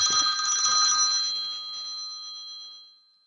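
Bright electronic telephone ring for an incoming call, a single trilling burst that sustains and fades out over a few seconds, with no talking.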